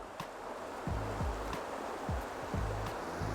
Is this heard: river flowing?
yes